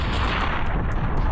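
Explosion Beam fire attack in a video game, a loud, dense blast of roaring fire and crackling burst filling the moment without pause, with short sharp pops riding on top.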